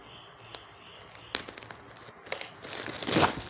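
Plastic packaging around a sarong being handled and opened, giving soft scattered crinkles that build into a louder rustling tear near the end, close by and fairly quiet.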